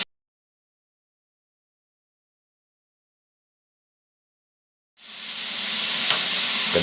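Pork and peppers sizzling and browning in a hot pan, a dense steady hiss that starts abruptly after about five seconds of silence and holds loud and close to the end, with no talking.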